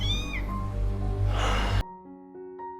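A cat meows a single drawn-out, plaintive call, loud and close, followed by a brief quieter tail.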